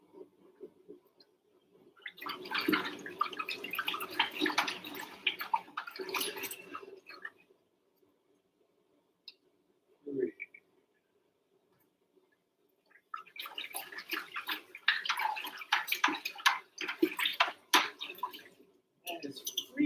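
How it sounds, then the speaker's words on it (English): Freezing cold tap water pouring into a plastic brewing bucket for a stout, splashing in two long bursts separated by a quiet gap with a brief clunk. "That is freezing cold water."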